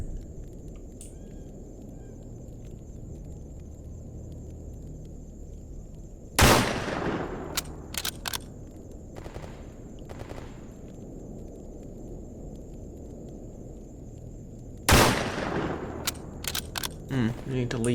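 Gunshots in the video game S.T.A.L.K.E.R.: Escape From Pripyat, two sharp, loud reports with quick follow-up shots, set well apart over a low ambient rumble.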